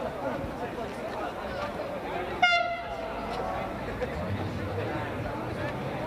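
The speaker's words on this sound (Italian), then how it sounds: "non si spostano nemmeno quando il treno inizia a suonare" A train bound for Venice sounds a brief sharp horn blast while arriving, heard over continuous rumbling rail noise and a speaking voice.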